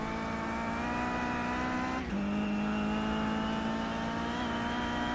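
Simulated race car in iRacing at Brands Hatch Indy, engine droning loud and steady as it powers out of the final corner, with a short dip and gear-shift break before the pitch settles back into a sustained howl.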